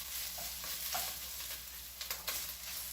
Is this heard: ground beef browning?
yes